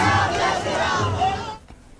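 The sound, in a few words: crowd cheering CM Yogi Adityanath at Kolkata roadshow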